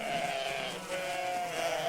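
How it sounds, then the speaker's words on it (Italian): Sheep bleat in a close, wavering, drawn-out cry, with a second bleat following after a short break, over a soft background hum. "Il belare delle pecore lo trovo curioso"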